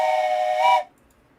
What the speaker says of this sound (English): There's a train whistle for them.